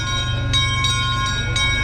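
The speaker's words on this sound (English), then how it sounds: "It is one of the real signature attractions of this park, the Castle Park Railroad" A miniature park train, the Castle Park Railroad, rolls past with a steady low rumble and rhythmic clicking of wheels on rail joints, plus faint bright metallic chiming over the top, continuous and fairly loud.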